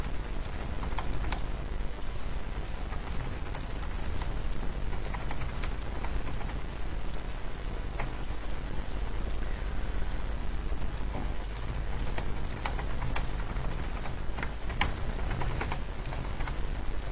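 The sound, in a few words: typing on a computer keyboard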